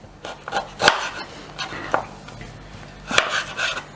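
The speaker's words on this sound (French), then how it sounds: "Je vais couper en petits morceaux." A knife chopping food into small pieces on a board, with a few uneven, close knocks and scrapes in short bursts.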